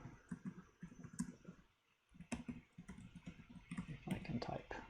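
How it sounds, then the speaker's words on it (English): Quick bursts of keystrokes tap on a computer keyboard, close and fairly quiet, with a short pause near the middle before the clicking resumes, mixed with faint voice sounds. "If I can type."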